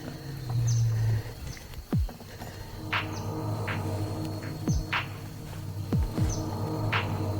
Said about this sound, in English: I've heard a tiger roaring over there